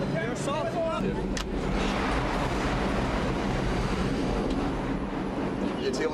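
A subway train rumbles steadily through a station, a loud continuous roar with voices heard over it.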